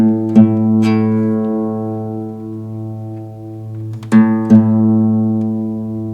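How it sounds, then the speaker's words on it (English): Two guitar strings ring together while the tuning peg is turned, the open A matched against the fifth fret of the low E: plucked twice, sustained and slowly beating, then plucked twice again, close and clear with no talking. "So I'll play the two notes together and then adjust the tuning peg at the top."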